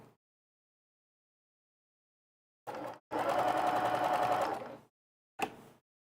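A sewing machine quilts a kids' apron along dotted fabric, stitching in one steady buzzing run of under two seconds, with short bursts just before and after and silence between.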